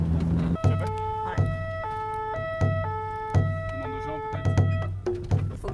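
A fire brigade siren in Mayotte wails in a repeating two-tone pattern, alternating high and low pitches in steady cycles at moderate distance, with faint background noise.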